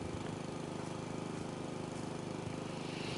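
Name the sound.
lawnmower cutting grass in House Flipper 2 video game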